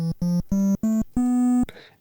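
A series of five steady chiptune triangle-channel notes stepping slightly upward, each cleanly cut, the last held longest, followed by a brief burst of noise, loud and without voices.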